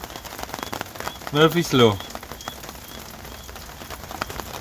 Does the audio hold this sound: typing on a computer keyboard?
no